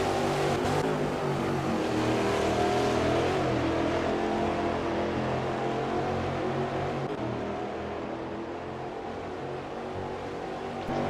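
Steady, loud Ginetta G58 prototype race car engine in Automobilista 2, droning at a high sustained pitch with only a slight dip midway, like a continuous onboard drive at the Brasilia circuit.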